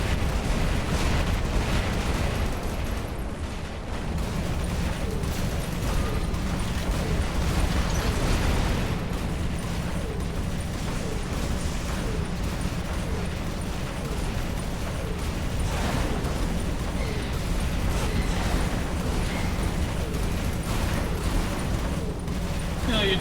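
Robots blow up in the War Robots game amid a dense, continuous barrage of booming explosions and rattling gunfire that never lets up, with a voice talking over the din.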